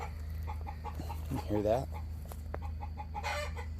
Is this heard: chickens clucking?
yes